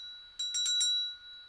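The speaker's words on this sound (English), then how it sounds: "It's a tiny bell here" A tiny handheld bell rings alone in a quick cluster of about four bright strikes, its high tone lingering briefly and then fading.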